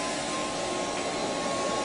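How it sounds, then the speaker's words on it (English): An Easy Burn variable-speed pet dryer blows a steady, loud, broadband rush of air while drying a Newfoundland's coat, constant and unbroken throughout. "now I'm going to come back and I'm going to use the dryer"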